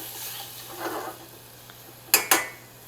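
Vegetables stirred in a pan on the stove, with soft scraping and faint sizzling followed by two sharp clanks of utensil against the pan near the end.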